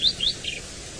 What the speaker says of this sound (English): Beautiful melodious call of the white-browed scrub robin.